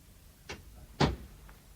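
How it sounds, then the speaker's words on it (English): A door shut indoors during a radio drama scene, heard as a light knock followed by a firmer thud as it closes, then a faint click, fairly close. "You'd better shut that door and sit down."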